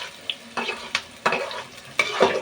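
Onions fry in a pan while being browned for Hyderabadi chicken dum biryani, a steady soft sizzle broken by several sharp scraping stirs of a spoon.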